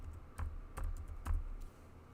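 Someone types a file name on a computer keyboard: a few spaced, soft, close keystroke clicks with slight low thumps, quiet and with no voices.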